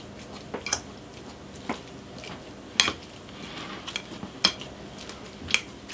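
Cooked red kuri squash mashed into purée on a plate, with soft squishing under a fork and scattered sharp clinks of metal against the dish, close and fairly quiet.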